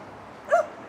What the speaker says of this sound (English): it's just a homeless dog saying life's not good